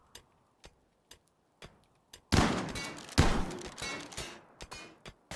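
Gunfire in the video game RimWorld: a steady ticking pulse, then a sudden loud, noisy burst of shots with a sharp peak that tails off as the ticking carries on.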